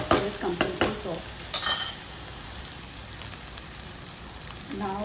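Aloo bhindi, potatoes and okra with softened tomato, being stirred in a hot pan in a home kitchen: a few quick scraping stirs up front over steady soft sizzling, then a long stretch of quiet frying with another stir at the end.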